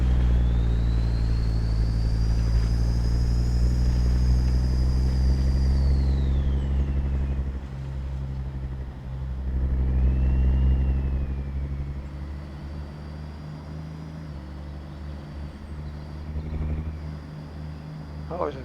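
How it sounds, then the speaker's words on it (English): Steady engine rumble of a truck in American Truck Simulator hauling dynamite from Horseshoe Bay to Lillooet, BC, with an oncoming vehicle swelling briefly past partway through; the drone continues loud throughout. "there's a vehicle coming the other way"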